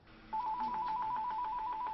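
A telephone rings steadily in a party campaign office, a continuous warbling electronic trill that starts abruptly and carries on at even strength over a low room background.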